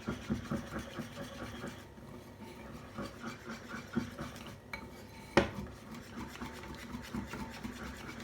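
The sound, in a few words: stirring and mixing Thai peanut noodles in a pan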